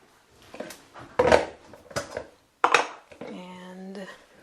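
A coffee mug and dishes are handled in a home kitchen, giving a few hard clinks and knocks between stretches of talking, then a longer ringing, resonant tone at the end.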